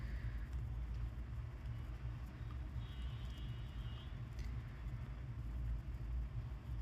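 A mixer grinder run on pulse mode grinds nuts and dates into a powder, giving a loud, steady, low rumbling whir that carries through the whole stretch with no voices.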